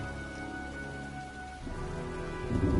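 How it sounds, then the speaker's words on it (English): Steady, dense rain pours in the video game Heavy Rain as a storm approaches. A low, distant rumble of thunder swells toward the end. "looks like a storm's coming"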